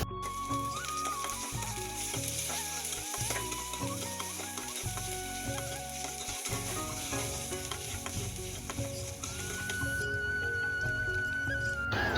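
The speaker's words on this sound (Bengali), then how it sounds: "পেঁয়াজটা এখন ভালোভাবে ভেজে নিব।" Chopped onions frying in hot oil in a home kitchen pan, a steady bright sizzle with occasional stirring scrapes, close and continuous over a low rhythmic background hum.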